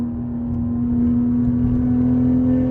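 BMW G30 540i engine with the throttle stabbed on an uphill road, a steady deep droning hum with a strong low tone that rises slightly in level, continuous and close with no talk.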